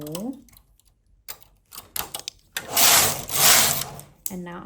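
A knitting machine carriage swishes across the needle bed knitting rows of cables, a rising mechanical whirring and clatter in two sweeps after a few softer clicks, close and fairly loud.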